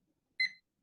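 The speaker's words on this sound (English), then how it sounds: "It's the timer and it's cursed all the time" A council meeting speaking timer goes off with a single short electronic beep, bright and fairly close, then silence.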